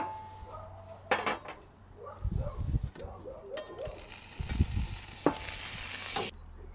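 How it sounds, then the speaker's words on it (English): A grilled cheese sandwich on a Blackstone griddle, with a soft continuous sizzle, several scraping and clanking bursts of a spatula against the metal surface, and a brief clatter near the end. "we're going to go ahead and cautiously flip that over and let that other side get nice and toasted"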